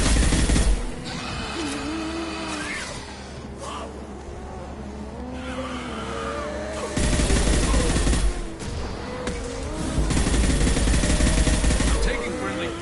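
Video game gunfire from rapid bursts mixed into loud engine roar and tire squeal, dense and continuous with intensity swelling in waves, while a voice talks over the action.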